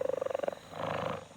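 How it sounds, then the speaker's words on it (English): A cartoon jaguar purrs close and soft, a quick pulsing rumble of about a dozen beats, followed by a brief, smoother throaty growl. "It's a jaguar."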